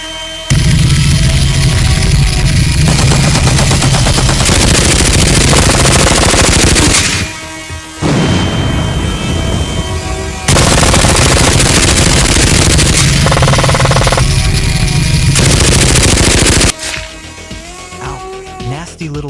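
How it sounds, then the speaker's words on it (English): A big gun in a video game fires long, loud sustained bursts of rapid automatic shots, broken by short pauses, with game sounds and a voice mixed in. "Time to break out the big gun."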